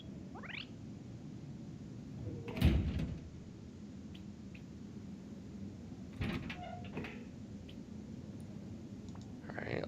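A door and its lock are worked in the survival game Rust, with sharp clicks and a clattering latch standing out against a steady low background hum, a few lighter taps following later.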